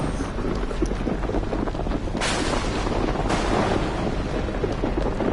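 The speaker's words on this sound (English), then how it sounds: "Storm's getting worse!" A worsening storm in the video game Outlast 2 gives steady roaring wind and rain, with two sudden bright thunder cracks rising out of the din partway through.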